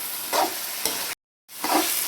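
Boiled beef pieces hit hot oil in a karahi and fry, giving a loud, broad, continuous sizzle with a couple of swells, close up, broken by a brief cut to silence before the frying resumes.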